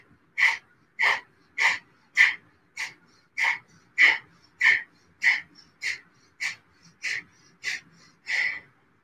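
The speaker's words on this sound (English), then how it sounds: "we're going to take 10 Kapalabhati breaths" Kapalabhati breaths in a morning vinyasa yoga practice: about fourteen sharp, forceful exhales through the nose, evenly spaced roughly every half second, close and alone with no talking.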